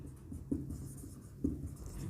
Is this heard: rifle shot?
no